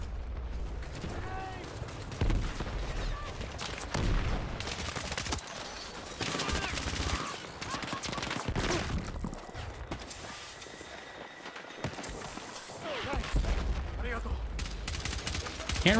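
Rapid bursts of gunfire from Battlefield 6 combat, sharp repeated shots and clattering volleys crackling through a busy, noisy battlefield mix with voices talking over the action throughout.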